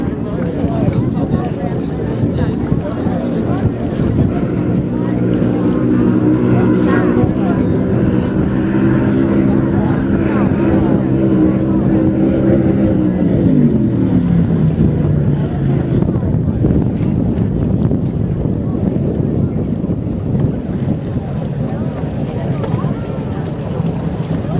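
Racing powerboat number 13 roars past at the Dunkirk, NY races, its engine drone loud and steady, then the pitch sweeps downward as it passes, with wind buffeting throughout.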